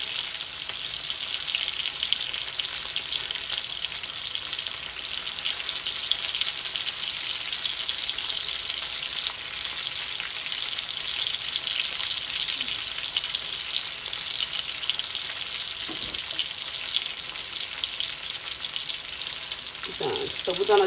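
Garlic wine pork chops sizzling in a frying pan, a steady bright hiss of hot fat holding evenly for about twenty seconds, close up, with a couple of faint clicks near the end and no talking.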